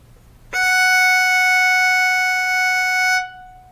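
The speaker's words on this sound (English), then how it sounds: "When you put your first finger on the E string, you're playing an F sharp" A single violin note, F sharp fingered with the first finger on the E string, sounds as one steady bowed tone of about three seconds, clear and alone over quiet room hiss.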